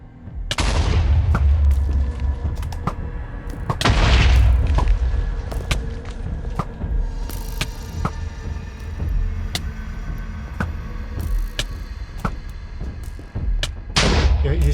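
Deep booming explosions in the video game Symmetria roll out at intervals, loud and rumbling, with scattered sharper cracks between them.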